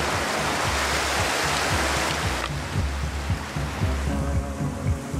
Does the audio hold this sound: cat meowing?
no